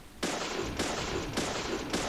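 Gunfire in a video game adapted from the TV show Hemlock Grove, sounding as four sustained bursts of rapid shots, each cutting off abruptly with short gaps between them, at moderate loudness.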